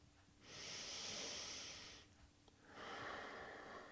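A long, deep breath during a yoga stretch: a steady breathy inhale, a short pause, then a full airy exhale, close and clear with no talking.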